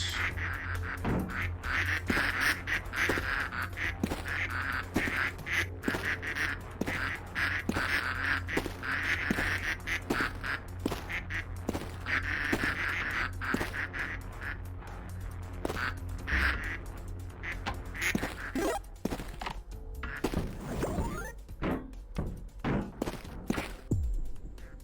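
Ducks in the video game Project P.I.T.T quack in a busy, continuous flurry of overlapping calls, set against a steady low background hum and clattering game effects.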